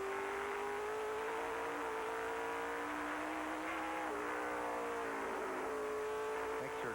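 An on-board NASCAR race car engine at Lime Rock Park during an October 2000 race holds a loud, continuous high drone. Its pitch dips and climbs as the car shifts and accelerates along the circuit.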